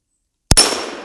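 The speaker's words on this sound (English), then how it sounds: "that's got a little bit more pop in that 22 long rifle" A single sharp, loud crack from a Henry .22 Long Rifle Mare's Leg lever-action gun, fired close by and followed by a short fading ring of echo.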